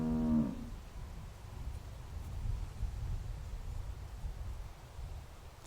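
A single low cow moo inside a barn at the start, then a steady rumbling, rustling background with no further calls.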